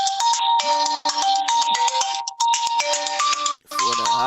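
A phone ringtone trills in repeated bursts with brief gaps, loud and close, with no talking over it; heard during a sports podcast chat.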